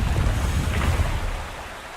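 Rushing water from a waterfall in the Wuthering Waves video game, a steady broadband roar that fills the whole stretch, heard alone and easing off slightly toward the end.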